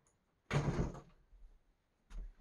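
A house door is opened to let a pet named Pumpkin inside: a fairly quiet, half-second rattling clatter as the door moves, then a softer thump a moment later, with no talking.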